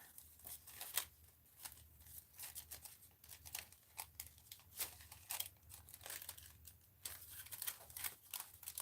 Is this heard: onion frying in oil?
no